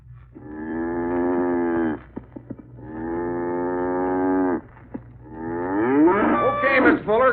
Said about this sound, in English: Okay, Mr. Fuller, cow's bedded down for the night